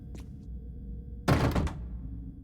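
A heavy door in The Dungeon Experience video game, refusing to open, gives a single muffled thud with a brief rattle, loud against a quiet hum after a faint earlier tap.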